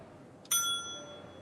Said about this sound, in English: I gotta do the desk bell.